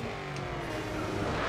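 A race car engine in the video game GRID 2 holds at its rev limiter, a steady, loud, buzzing roar that stays near and constant without a pause.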